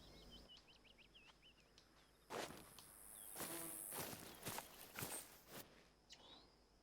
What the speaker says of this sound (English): Yeah, I am hearing footsteps.